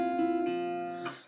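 A guitar note rings out clearly on its own as a finger pulls off from the fifth fret of the low E string, with short pitch changes as the sustained tone decays.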